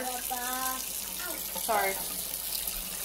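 Warm water runs steadily from a kitchen tap as vegan cookie dough is prepared, a continuous hiss beneath a few short spoken remarks and a voice.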